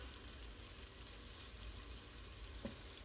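Meatballs for Salisbury steak browning in a pan, giving a faint, steady sizzle with light crackling throughout and one small pop near the end, quiet and unbroken by speech.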